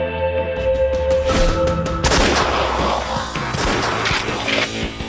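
A Kriss submachine gun with the Super V recoil mechanism fires in loud, close bursts of rapid shots, each volley cracking and rolling over a background rumble.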